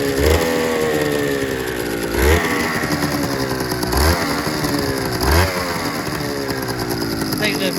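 A Suzuki RGV250M-SP motorcycle's two-stroke engine, being recommissioned and running on choke, revs repeatedly, rising and falling in pitch several times over a loud, rattly idle close by.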